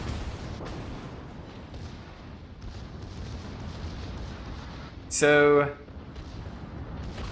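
Secondary guns on a battleship, the Pyotr Velikiy in World of Warships, fire in a steady dense rumble of naval gunfire, with a brief sharp louder burst near the end and someone speaking briefly.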